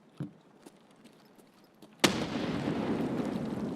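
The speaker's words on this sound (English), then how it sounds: "he shot the exploding barrel" An exploding barrel is shot in Escape From Tarkov. After a few faint distant pops, a sudden loud blast hits, followed by a sustained rumbling roar that lingers to the end.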